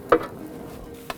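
Onions stirred through onion fat in a hot pan, a short scrape near the start and another near the end over a soft steady sizzle.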